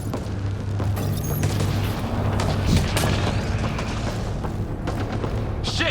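Gunfire during a chase through a combat zone toward a building, heard as dense booming blasts and sharp cracks over a loud, rumbling battle din that never lets up.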